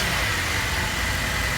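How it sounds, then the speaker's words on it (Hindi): A 2004 BMW 5 Series with a 3.0-litre six-cylinder petrol engine idling, heard close up as a steady, loud hum with a broad hiss over it. "तो 6 सिलेंडर इसका इंजन है, 3000 सीसी BMW आप देख सकते हैं।"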